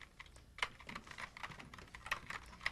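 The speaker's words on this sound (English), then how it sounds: "now you can type your message to Aunt Hilda" Keys clatter on a computer keyboard as a message is typed, with irregular light taps and a few sharper clicks, close and fairly quiet.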